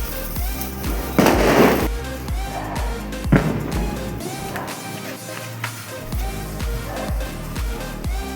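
Firecrackers set off by a father and daughter at home crackle and pop in sharp bursts over steady background music, with several louder bangs standing out.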